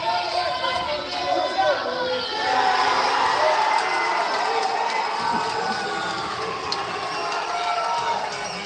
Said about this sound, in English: I think there's a humbling of a match going on, hence that cheer.